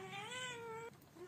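A cat meows from atop a shoe cabinet, a single drawn-out, slightly rising and falling plaintive cry, close and clear, trailing off with a faint shorter sound at the end.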